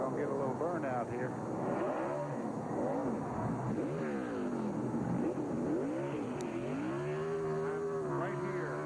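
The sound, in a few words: NASCAR race car doing a burnout, engine revving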